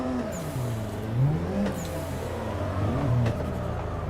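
A car engine in the racing sim Assetto Corsa revving and shifting while driving, the pitch climbing and dropping in repeated sweeps at steady close volume; no talking.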